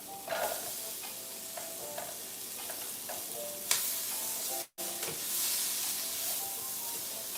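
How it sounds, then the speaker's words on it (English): Onions sizzle in butter in a pan with a steady, close frying hiss, broken by a few stirring scrapes and one brief dropout. "I'm going to throw my onions in the butter."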